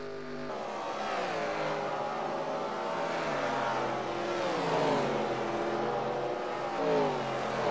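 NASCAR-style stock cars race at North Wilkesboro: a dense, steady roar of several engines at once, with pitch sweeping up and down as cars pass and slow toward the pits, loud and continuous.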